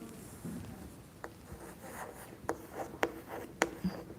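Chalk tapping and scratching on a board, faint strokes with sharp clicks at irregular intervals.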